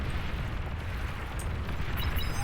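A fusion reactor chain explosion in the Beyond All Reason strategy game sets off a sustained, rumbling roar of blasts with a heavy low-end boom that holds steady and loud.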